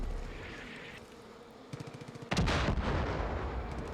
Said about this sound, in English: Sounds like there's mortars in the distance, too.